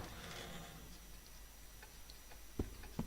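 A clock ticks faintly within the video game Koudelka, with soft steady ticks under a hazy ambient background and a couple of sharper knocks near the end.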